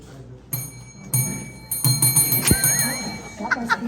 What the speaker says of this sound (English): get ready to ding your bell fast